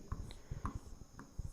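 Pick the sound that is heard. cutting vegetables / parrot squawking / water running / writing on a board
writing on a board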